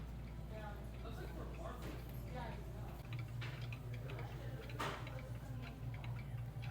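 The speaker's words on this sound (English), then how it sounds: "Look how cute this cuckoo clock is." A cuckoo clock ticks steadily among vintage collectibles, its regular tick-tock close and clear beneath a steady low hum, with faint voices in the background.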